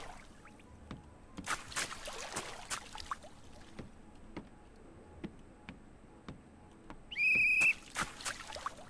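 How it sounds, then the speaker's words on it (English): Police whistle in the video game Train Station Project, sounding as a single loud, shrill, steady blast of under a second. It cuts above scattered clicks, taps and faint trickling water and comes without any talking. "Was that a police whistle?"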